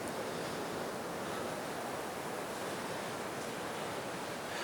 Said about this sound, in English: beautiful ripples of water moving back to the ocean